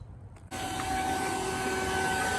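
A vacuum pump starts up while pulling vacuum on a Goodman AC system, switching on abruptly after a brief quiet moment and then holding a loud, steady hum with a constant high whine.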